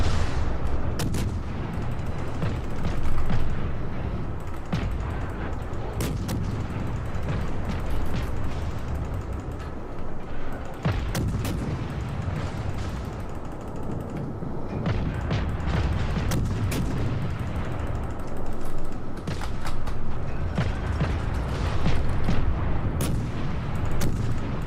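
Warship guns firing in the naval combat video game World of Warships, repeated sharp booms and mechanical clatter over a dense, constant rumble of battle, loud and close.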